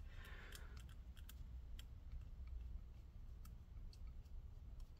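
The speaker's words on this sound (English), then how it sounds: "I like to twist it backwards to hear it click into place and then tighten it down." A screw on a Lenovo IdeaPad Flex 5 14ARE05 laptop is turned backwards until it clicks into place, giving a string of tiny, faint, close-up ticks and clicks over a low steady hum.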